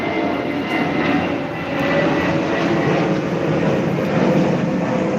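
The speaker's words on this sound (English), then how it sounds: "Let me let the plane go by." An airplane passes overhead, a steady, loud engine roar that swells slightly midway and holds throughout, with no voices.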